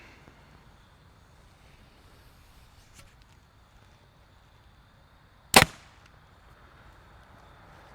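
A single shot from an Elite Archery 2021 Remedy compound bow, one sharp loud snap from the string and limbs with a quick fading ring, alone against a quiet outdoor background.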